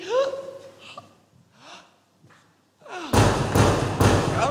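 Heavy knocking on a gate at Hell's porter scene in a National Theatre staging of Shakespeare's Macbeth: three loud, booming thuds close together, after a stretch of quieter vocal sounds and breaths.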